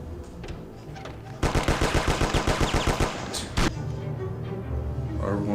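Rapid gunfire from Mafia: Definitive Edition on PS4, a burst of a dozen or so fast, even shots fired at point-blank range, loud over a busy game soundscape, then a single heavy blast.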